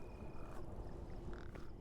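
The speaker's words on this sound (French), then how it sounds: "On se fait rattraper par les grenouilles." Frogs croak steadily in the video game PEAK, a low, grunting chorus repeating close by across the stretch, with faint tonal game sounds above it and no talking.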